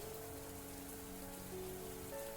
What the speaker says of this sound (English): They were awkward-sounding words, now lost to the sound of rain